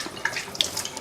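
Water from a kitchen faucet splashes briefly while a bowl is rinsed, a short close run of spattering with a few sharper splash bursts.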